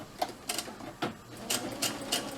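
A sewing machine stitches a fabric mask in short quick bursts, about six separate runs of needle clatter with brief pauses between, close and fairly soft.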